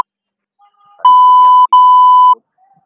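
A loud, pure censor tone covers abusive speech, two long beeps a little over half a second each with a tiny gap between them, alone against near silence.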